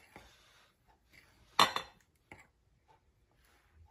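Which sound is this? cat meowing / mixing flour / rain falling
mixing flour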